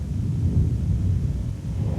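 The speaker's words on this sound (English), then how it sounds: "One moment, it appears to be a normal thunderstorm forming" A deep, continuous rumble of thunder rolls through a thunderstorm, loud and low with no distinct cracks, like distant thunder mixed with wind and rain noise.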